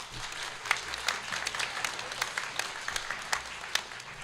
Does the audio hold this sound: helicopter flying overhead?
no